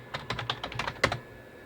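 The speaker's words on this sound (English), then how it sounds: "it is a lot quicker to just type things with the keyboard" Quick bursts of typing on a computer keyboard, close and fairly quiet, with clustered keystrokes and no talk.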